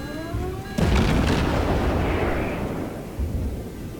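Naval gunfire in World of Warships: a sudden heavy boom after a quiet stretch, followed by a long rumbling roar that slowly decays and a smaller thump near the end, with no talking.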